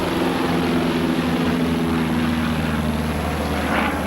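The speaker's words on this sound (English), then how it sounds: "Levar and his pilot, Art Scholl, take off in the Piper Cub, and the rope ladder is released." A Piper Cub propeller plane taking off, a loud, steady droning engine and buzzing propeller held close and unbroken throughout.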